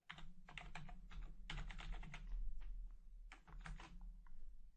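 Rapid bursts of keystrokes on a computer keyboard during ABAP programming, clustered in quick runs with short pauses, close and fairly quiet over a low steady hum.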